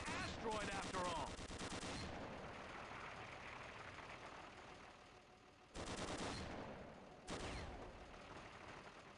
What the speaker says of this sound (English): Press your crouch key to fire the machine guns.